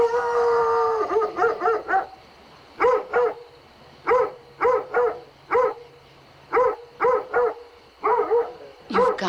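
A dog howls in a long opening wail, then gives a run of short, evenly repeated yowling barks in clusters, close and clear against a quiet background.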